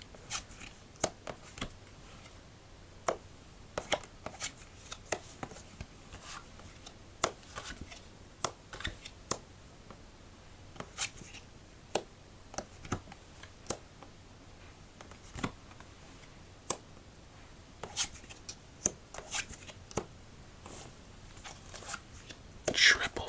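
Playing cards are dealt one by one in a quiet solitaire game: soft, crisp snaps and flicks at an irregular pace, close and gentle, with a voice talking softly between them.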